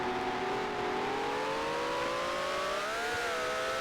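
A Ferrari 1512 racing car in the game GPL holds its engine at high revs, a steady loud whine that climbs gradually in pitch with no voices over it.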